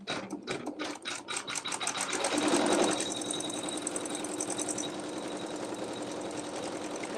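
A sewing machine stitching a quilt runs in a fast steady rattle, pausing briefly at the start before settling into a continuous mechanical whir, close and moderately loud with no talking.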